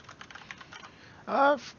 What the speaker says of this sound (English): I'll try to remember to mute when I'm typing a whole lot